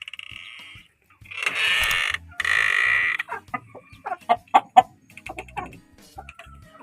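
Rooster and hen close by, with loud, raspy drawn-out squawks followed by a quick run of sharp clucks that fade into quieter, scattered pecking noises.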